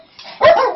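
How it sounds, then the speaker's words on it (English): A dog barks once, close and loud: a short, sharp yip-like bark after a brief soft whine. "Sorry about this, guys. These are my dogs."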